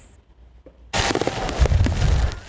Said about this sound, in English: Every summer, the July sky shines bright with fireworks